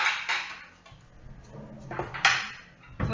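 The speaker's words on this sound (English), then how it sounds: "So then we mix that through." Sour cream being stirred into beef stroganoff in a pot, with scraping clatters of a utensil against the pot in short bursts between quieter moments.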